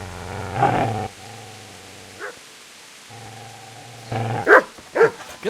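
A dog in the medieval role-playing game Kingdom Come: Deliverance gives a long low growl, then a few sharp barks; the growls return before a cluster of loud close yips and barks, with no talk.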